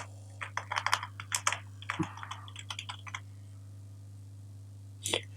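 Fingers type a short profile bio on a computer keyboard, a quick run of close, crisp key clicks in bursts with brief pauses, then a final pair of clicks, over a steady low electrical hum.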